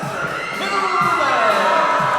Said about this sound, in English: And the crowd goes wild as we get ready to introduce the Hillmen